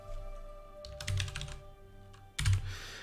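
Bursts of quick clicking keystrokes on a computer keyboard, two short flurries of typing separated by a pause, close and clear over a faint steady hum.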